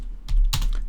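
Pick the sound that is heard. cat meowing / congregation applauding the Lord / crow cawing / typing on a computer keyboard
typing on a computer keyboard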